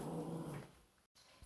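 A dog growls low and steady close by while being offered food, the rumble fading toward the end with a brief gap and a small thump.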